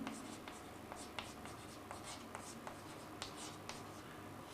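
Chalk or marker writes on a board during a chemistry class, a soft continuous scratching broken by sharp taps and strokes, faint and close, with no talking.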